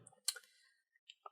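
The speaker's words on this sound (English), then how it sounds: "These little cards are a pain in the butt to shuffle." Small game cards being shuffled by hand: a brief burst of close, crisp riffling clicks followed by a few faint taps, with no talk.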